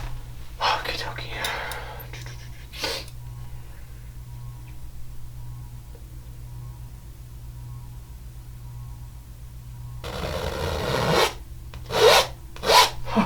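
A knife scrapes off excess paint in two clusters of close, raspy strokes separated by a long quiet stretch, with soft whispering alongside.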